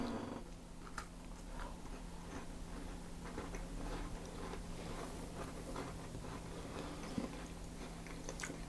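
Close, quiet crunching and chewing of a crumbly shortbread biscuit made with ground rice, a dense run of soft crackling bites over a steady background hum, without talk.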